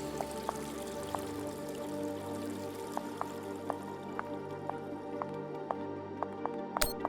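Water drips in a quiet interior scene from The Expanse game, single droplets plinking at irregular intervals over a low steady hum, ending with a sharper splash.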